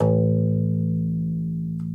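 A single low note on a bass guitar's open A string rings out alone, sustained and steady, slowly decaying with a slight fret or finger noise near the end.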